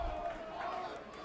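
A good-sized crowd at a Game 3 IBL semifinal baseball playoff game between the Welland Jackfish and Toronto Maple Leafs roars and cheers in a sustained, fairly distant wash of noise.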